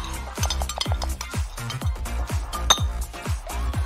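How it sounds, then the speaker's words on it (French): A spoon stirring milk in a pot, giving a steady run of quick metallic clinks and knocks against the sides, roughly evenly spaced and close up, with no talking. "Mélange le tout avec une cuillère"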